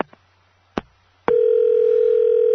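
A few clicks and a brief knock on a telephone line, then a steady, loud dial tone that continues unbroken while calling Joyce.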